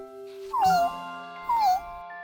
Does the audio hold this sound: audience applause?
no